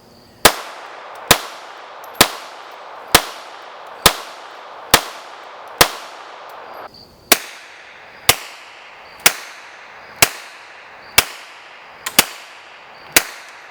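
Thirteen evenly spaced suppressed shots from a Walther PPK pistol in .32 ACP fitted with a Banish 45 suppressor, each a sharp crack with a short ringing tail, fired at a steady slow pace outdoors with no talking.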